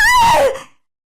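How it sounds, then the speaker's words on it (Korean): A single short, high vocal cry from a husband or mother-in-law slides downward in pitch and cuts off quickly into silence. "남편과 시모는 각기 다른 짧은 비명을 질렀죠"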